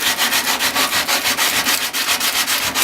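Coarse 60-grit sandpaper folded over rasps steadily along the edge of a wooden spoon, a loud close rhythmic scrubbing with even strokes throughout.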